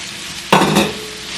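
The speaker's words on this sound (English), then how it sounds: "I'm gonna saute this onion with this along with the pepper here" Onion and pepper hit a hot oiled pan with a sudden loud sizzle, followed by a short stir and frying hiss that fades. No one speaks.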